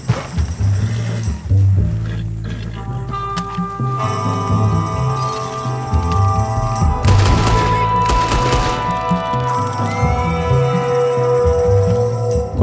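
A gang shootout with thugs in Red Dead Redemption 2 crackles with clustered rapid gunshots bursting loudly midway over sustained game music and ambient tones.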